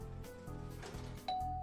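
A doorbell in the video game Famicom Detective Club gives a single bright chime near the end, layered over the game's ongoing background music.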